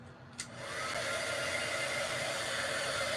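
Hair dryer switched on close by to dry a sea turtle craft project, rising from a click to a steady loud blowing whir that continues without talk.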